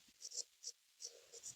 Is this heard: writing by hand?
yes